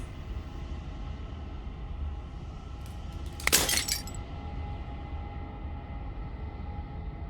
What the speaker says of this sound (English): As the final fragment of glass shatters